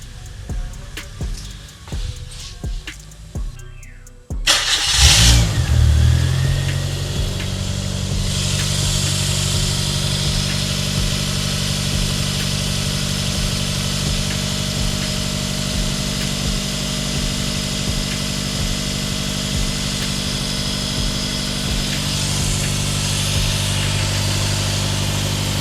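A G16B car engine with newly swapped fuel injectors and a bolt-on turbo cranks briefly, catches with a loud burst, then settles into a steady, even idle close by for the rest of the clip.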